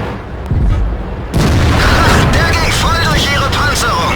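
A heavy tank cannon fires in World of Tanks while an E75 heavy tank fights nearby, a loud deep boom that erupts at once and holds into a dense rumbling roar, with faint tonal chirps in the background.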